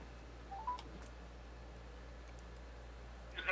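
A telephone dialing a customer's number, with faint dial-tone bursts and a couple of quiet beeps over a low steady hum, heard close and alone.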